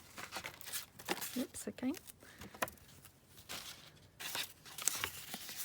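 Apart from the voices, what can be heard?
cutting burlap trim for a junk journal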